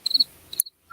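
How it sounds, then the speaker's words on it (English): Crickets chirp in a few quick, bright, high-pitched bursts, clear and close, with short pauses between them and no other sound. "those people will just have to hear crickets"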